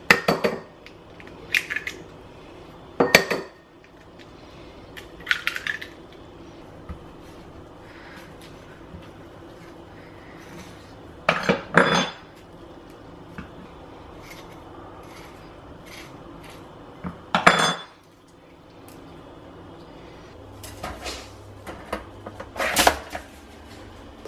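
Half an avocado is cut up on a kitchen counter for rye bread toast, with intermittent knife clicks and clatters of cutlery and dishes spread across a quiet room, close and without talk.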